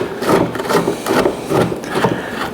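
Phillips screwdriver working crusty armrest screws on a 1970 El Camino interior, a close, loud, rhythmic grinding and rasping repeated about five times in steady strokes.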